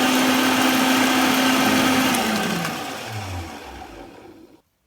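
A blender whirs loudly and steadily as oil is blended into homemade mayonnaise. Its motor pitch then drops as it winds down and stops, with no talk.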